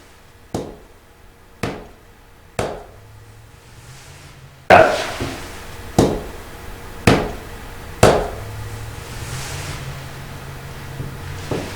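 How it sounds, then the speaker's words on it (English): Sharp knocks on a surface at the Sir John Johnson Manor House: three evenly spaced raps, a short pause, then four louder knocks in a steady rhythm over a low room hum. "I'm going to knock 3 times"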